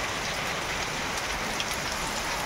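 Heavy rain pours down in a dense, continuous hiss with no pauses, loud and close throughout.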